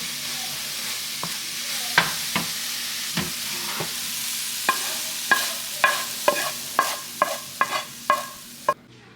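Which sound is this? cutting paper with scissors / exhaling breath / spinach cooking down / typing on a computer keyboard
spinach cooking down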